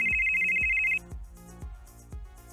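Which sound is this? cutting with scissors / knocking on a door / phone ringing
phone ringing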